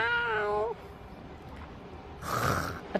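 A cat meows once, a short wavering cry near and fairly loud at the start, followed by quieter rustling and a burst of noise.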